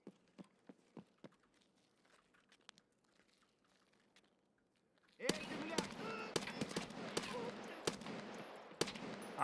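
Suppressed VSS rifle shots in Escape from Tarkov start as faint, spaced cracks, then give way to a loud stretch of rapid, close gunfire and crackling over a noisy background.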